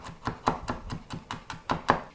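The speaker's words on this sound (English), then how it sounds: "Take off the skin and then chop it up nicely." A knife chops a crushed, peeled garlic clove on a board, about ten evenly spaced sharp knocks in a steady rhythm, close and clear with no speech.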